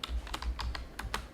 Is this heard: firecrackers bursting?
no